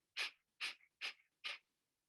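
Four forceful Kapalabhati breaths pushed out through the nose in a steady rhythm, each a short, sharp exhale close to the listener with brief silence between, no talking.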